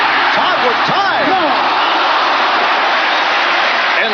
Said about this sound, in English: the crowd providing an ovation for the Giants defensive unit